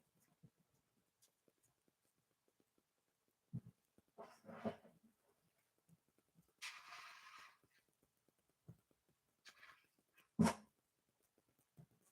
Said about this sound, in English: I'm going to grab a drink and get my dog food so he'll shut up